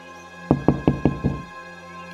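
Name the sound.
loud pounding on a door, story sound effect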